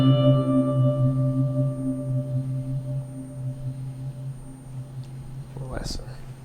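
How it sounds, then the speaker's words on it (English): Open-voiced electric guitar chord played with the 9th on the high E string, drenched in reverb, delay and phaser, ringing out as a sustained shimmering tone that slowly decays before a brief scrape of noise near the end. "adding in effects like reverb, delay, or phase, I get a sound like this"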